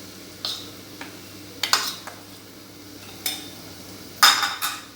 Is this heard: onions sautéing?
yes